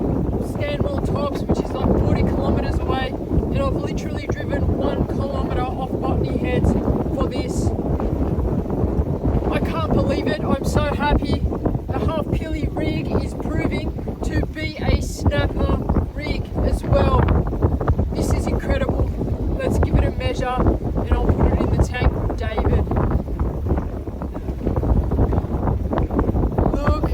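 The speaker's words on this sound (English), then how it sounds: "The wind is blowing like 20 knots" Strong offshore wind at roughly 20 knots roars steadily across the microphone on a fishing boat at sea, a loud continuous buffeting with water noise, while someone talks over it throughout.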